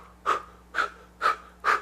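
Four quick, even breaths are pushed out in a steady pant-like rhythm during a singing breath exercise, each a short, close, breathy puff separated by near silence.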